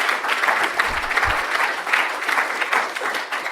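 An audience at a talk on the limits of AI claps to welcome the speaker, steady, dense applause from a nearby crowd throughout.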